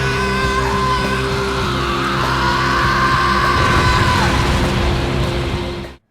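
Future Trunks in an English anime dub lets out a long, loud, sustained yell while powering up into Super Saiyan, the sustained cry swelling and holding over dense roaring background for about six seconds before cutting off.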